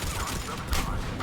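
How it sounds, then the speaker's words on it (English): Rapid enemy gunfire in a Mass Effect 3 firefight, a dense crackling fusillade running steadily through the moment with a brief louder burst midway, faint voice underneath. "Taking enemy fire."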